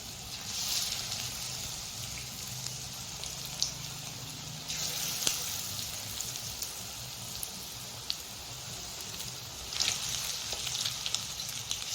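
Chicken pakora fries in hot oil in a kadai, giving a soft, steady crackling sizzle with a few louder bursts of spatter, fairly quiet and continuous with no voice over it.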